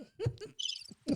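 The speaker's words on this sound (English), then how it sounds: "Can I get some crickets" A brief crickets chirping sound effect rises as a short, high, shimmering burst between other low sounds, lasting well under a second.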